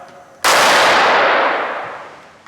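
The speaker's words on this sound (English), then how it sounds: "Make the firing call and pull the trigger." A Ramset high-velocity powder-actuated tool fires once with a loud, sudden crack, and a broad, bright ringing roar follows and decays slowly over about two seconds.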